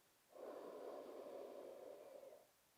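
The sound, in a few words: deep inhalation during sophrology breathing exercise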